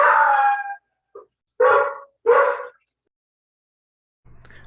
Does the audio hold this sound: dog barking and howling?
yes